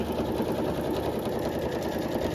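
A sewing machine stitches steadily through potholder layers, quilting them in lines from corner to corner, its fast even whirring clatter close and continuous with no pauses.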